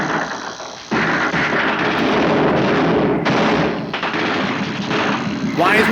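Dense bursts of gunfire in the 1954 film Suddenly, loud and rapid with short breaks between volleys, with shouting voices mixed in.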